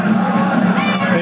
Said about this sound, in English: A good-sized crowd here tonight.